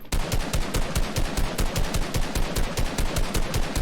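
Rapid, sustained automatic gunfire from a video game, a loud steady stream of evenly spaced shots with no pauses, with nothing else audible.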